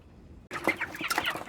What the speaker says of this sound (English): Every day, Michael Gonzu wakes up early to tend to his birds.